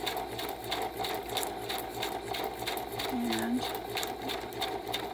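A sewing machine chain stitching fabric pieces together runs continuously at close range, a steady rapid mechanical whir with rhythmic clatter; a brief voice speaks over it.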